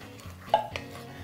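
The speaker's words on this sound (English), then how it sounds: "now I'm just gonna put my black-eyed peas in there" Drained canned black-eyed peas tipped into a pot of cooking onions, giving a brief soft clatter and plop against the pot, with a second small knock shortly after, fairly close and quiet.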